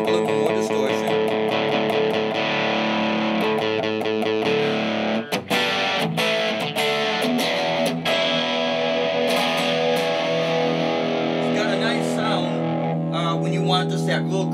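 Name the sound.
electric guitar open A string through overdrive pedal distortion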